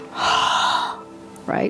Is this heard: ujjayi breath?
yes